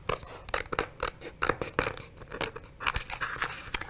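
Scissors trim excess Cricut iron-on material with a rapid series of crisp snips and scratchy slicing strokes, close and continuous, with no talk.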